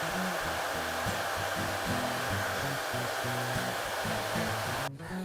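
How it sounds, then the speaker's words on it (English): A hair dryer fitted with a diffuser blows steadily on high heat and a low power setting, a constant near whooshing drone that cuts off abruptly at the end. "after you've finished drying the hair with a diffuser, using on a high heat but on a low power setting"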